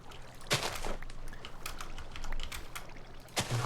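Waterfall in a video game, a steady rushing wash of falling water with a few sharper splashy bursts, moderately loud and continuous, no voice.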